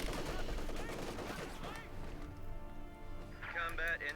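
MG34 machine gun fire in the Company of Heroes 2 battle game, dense rapid bursts that are loud at the start and fade into a softer spell of battle noise, heard under a commentator's continuous talk.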